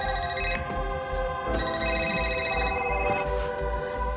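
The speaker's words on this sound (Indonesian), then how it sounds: "Lalu Raymond menelepon kembali Janiyah yang stres tidak mau mengangkatnya" A phone goes on ringing without being picked up in a 2025 thriller film, a loud, close, tonal electronic ringtone in steady repeating pulses that lasts throughout, with no one speaking.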